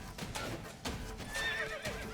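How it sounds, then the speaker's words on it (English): A horse in The Witcher 3: Blood and Wine whinnies and snorts restlessly, with a few clopping hoof sounds, all set against a steady background of game ambience. "it's just the horse. Kicking up a fuss."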